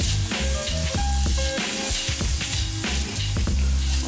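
Butter sizzles in a hot pan with a loud, steady hiss over a background of tonal music-like hum, close and continuous for a few seconds.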